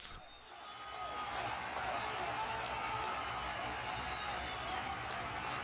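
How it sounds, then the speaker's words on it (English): Recorded baseball crowd noise plays during a Dodgers versus Braves game stream: a steady, dense stadium roar that swells in and holds evenly throughout. "Bringing a little bit of crowd noise"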